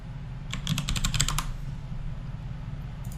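Rapid burst of keystrokes on a computer keyboard while a search is typed, about a dozen crisp clicks in quick succession, close to the microphone, then a low background hum.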